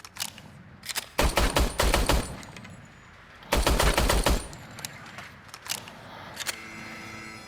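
The Robocop service weapon in Robocop: Rogue City fires on a shooting range in two rapid bursts of loud, sharp automatic shots, with a few scattered single shots around them and no talk.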